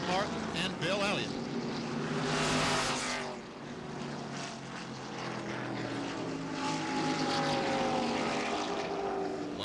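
Stock cars roar past during the 1994 Southern 500 NASCAR race, a dense, loud engine drone with rising and falling passes, crowd and track noise blending throughout.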